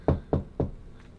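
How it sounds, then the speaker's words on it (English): Three firm knocks on a door, evenly spaced and close, thudding with a dull wooden weight before falling quiet. "you hear a knock"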